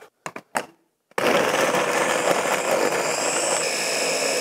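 A Ninja Master Prep blender whirs into a strawberry smoothie with milk, starting with a few short knocks and clicks before the motor kicks in loud and steady for several seconds.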